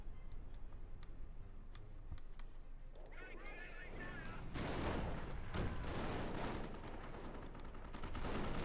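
Rocket barrages and gunfire from a Company of Heroes 1v1 match, crackling in repeated bursts that build into a dense, loud roll of explosions over the second half, with a voice talking over the battle.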